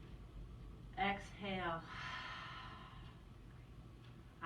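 A long, breathy exhale during a yoga session, preceded by a short voiced sound. It is close and soft over a quiet room hum.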